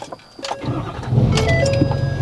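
A 6.7 Powerstroke diesel truck cranks and catches after a few clicks and a short pause, then settles into a steady low rumbling idle close by.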